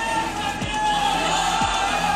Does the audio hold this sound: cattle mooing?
no